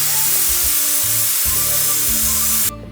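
Tomatoes hitting a hot pan while cooking a goruchikkudu (cluster bean) curry, giving a loud, steady sizzle and fry hiss that cuts off abruptly near the end.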